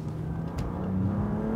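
BMW M2 Competition on a race circuit, its engine note climbing steadily as it accelerates, loud and close, with a rising tonal whine over a rumbling base.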